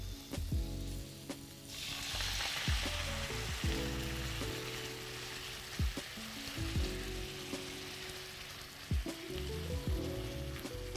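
Potatoes frying in a pan as cream is poured in, a continuous sizzling hiss that surges when the cream hits, with low rumbling and occasional clicks underneath.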